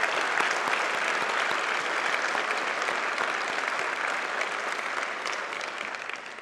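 Sustained audience applause welcoming Al Gore at a Queensland event on climate change and economics: dense, steady clapping from a large room that holds at an even level for several seconds and fades slightly at the end, with no voice over it.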